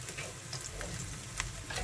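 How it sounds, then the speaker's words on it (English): Onions fry in hot rapeseed oil, giving a constant close sizzle with scattered small pops and crackles, no talking over it. "Pop your onions into the oil, like so. And let them lightly brown up."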